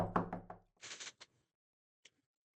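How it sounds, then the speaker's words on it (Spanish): Several quick, close knocks sound on a door, a short cluster followed by a single fainter knock after a pause, with a brief bit of talk just before. "¿No has oído un golpe en la puerta?"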